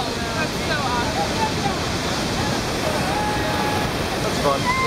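Garganta del Diablo waterfall in Brazil roaring with a dense, unbroken rush of heavy water, loud and close, with wind buffeting the microphone throughout.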